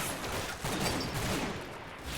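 Massed rifle fire crackles in a Combat Mission: Normandy battle as German attackers pour shots at British troops, a dense, continuous fusillade of distant overlapping gunshots.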